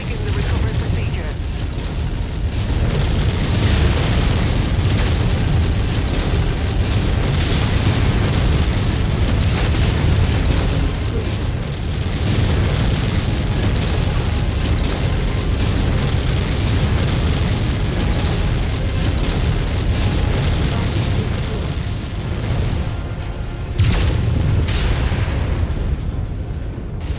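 Heavy booming explosions of destroyed mechs in MechWarrior 5 combat roll almost continuously, loud and dense with rumbling low-end bursts, plus a brief voice near the end.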